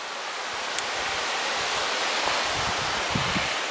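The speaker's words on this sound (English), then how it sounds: "There's a lot of these streams and meadows in the valley we're walking down through." Mountain stream running through a valley of meadows, a steady broadband rush of water that fills the clip at an even, fairly close level with no talk.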